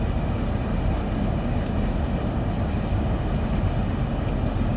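A Javelin high-speed train on the Southeastern High Speed line in Train Sim World 2, with a loud, steady, dense rolling rumble and drone that stays constant throughout.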